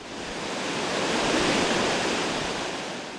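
Water rushes through seven opened sluice gates at the Vaal Dam, a steady, loud broadband roar of churning flow that swells slightly and holds constant throughout.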